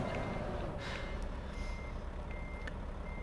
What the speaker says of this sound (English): that's an annoying truck